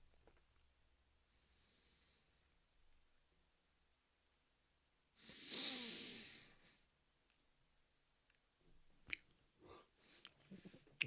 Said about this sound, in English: First yawn of the evening.